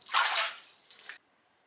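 Water splashing as face cleanser is worked into a lather at the sink, one steady rushing splash lasting about half a second, then a shorter second splash, close and fairly loud, followed by quiet.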